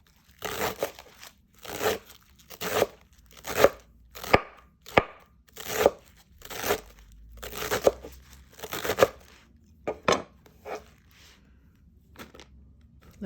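A knife chops eddo (taro) leaves thinly on a cutting board, giving a steady series of crisp, close, crunchy strokes at roughly even intervals, each with a slight leafy crackle, with no talking.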